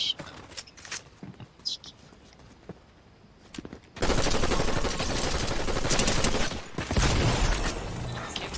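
Rapid bursts of gunfire from a Fortnite battle royale match, shots aimed at a llama, erupting loud and continuous after a quieter stretch with faint scattered clicks and a hushed voice.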